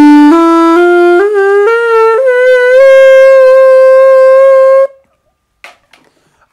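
A homemade plastic saxophone plays a C note: a loud, reedy, buzzy tone that steps up in pitch a few times before settling and holding, then stops abruptly, followed by a few faint handling clicks.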